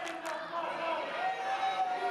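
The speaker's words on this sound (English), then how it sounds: "The crowd loving that." Wrestling crowd at a live match, cheering and shouting in a steady roar of moderate loudness with a couple of brief louder yells near the start.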